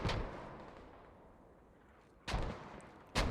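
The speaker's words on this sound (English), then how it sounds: "Look at the mortars raining down." Mortar shells explode in a multiplayer military shooter battle, two sharp distant booms landing a second apart after a fading rumble from an earlier blast.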